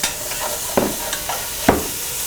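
Chopped onion tossed into a soup pot for Portuguese caldo verde, sizzling steadily in hot fat with a few sharp stirring clatters, close and moderately loud, no voices.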